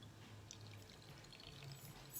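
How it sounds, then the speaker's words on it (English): Paint pours back into a container in a slow, quiet trickle, with soft liquid splashes and drips rising and falling over a faint background hum. "I'm just going to pour it back into here."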